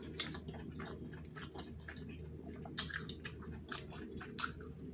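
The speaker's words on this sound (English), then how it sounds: "I have one more bite of that king crab. I'm going to go in with the garlic butter sauce." Someone chews a bite of king crab dipped in garlic butter sauce at close range, giving soft wet chewing with a few sharper crunchy clicks and smacks over a quiet background.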